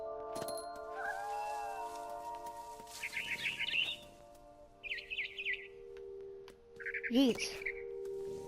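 Chirping bird calls in the video game What Remains of Edith Finch, several short twittering bursts and a squawk over a soft game ambience and low hum, moderately close.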